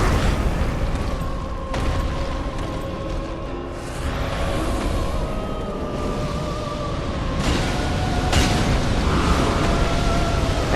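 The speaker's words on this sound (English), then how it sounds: "he's doing his ring of fire. See, it moves inwards, then outwards." Dark Souls 3's Old Demon King unleashes his ring of fire, a roaring blast of flame that swells and recedes in waves, with booming bursts and whooshes over a dense, loud game soundscape.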